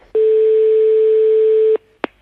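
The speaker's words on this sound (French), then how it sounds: "Bien, on téléphone tout de suite." A telephone call is being placed: a steady single-pitch tone holds for about a second and a half, then stops abruptly, followed by a short sharp click or clunk, loud and close with no speech.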